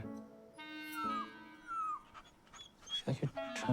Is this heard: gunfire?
no